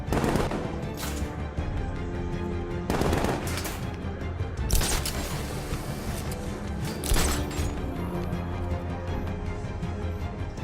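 Rapid bursts of gunfire in the Batman: Arkham Knight video game, several loud volleys and single sharp shots over a steady backdrop of game music and ambience, with no talking.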